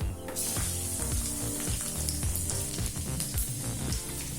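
Oil sizzles steadily as chopped garlic and cumin seeds fry in a pan, a continuous crackling hiss with music playing underneath.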